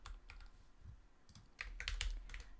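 Code goes in on a computer keyboard as a quick run of close, crisp key taps, uneven in rhythm, with a denser burst of clacks toward the end and no voices.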